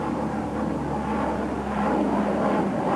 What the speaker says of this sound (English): The cargo planes roar overhead